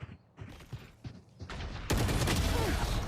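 Gunfire in a Valorant esports match, a few sharp separate shots followed by a dense, loud burst of rapid automatic fire.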